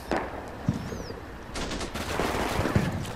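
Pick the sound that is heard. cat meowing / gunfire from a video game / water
gunfire from a video game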